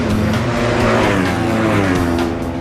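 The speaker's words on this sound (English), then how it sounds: "Hodgson rides the all-new Ducati 999" Ducati 999 racing motorcycle ridden at speed during race qualifying, a loud, close, sustained high-revving engine roar with a rising and falling pitch.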